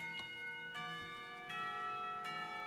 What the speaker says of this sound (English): Clock tower bells ring, signaling the end of the period.